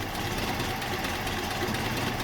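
A Datsun car engine idles after an engine bay overhaul, a steady, slightly uneven rumble heard close and continuous with no voices.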